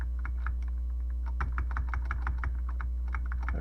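Keys pressed on a Tandy Model 200 portable computer keyboard with intermittent L and period keys, a rapid run of close, crisp plastic clicks over a steady low electrical hum.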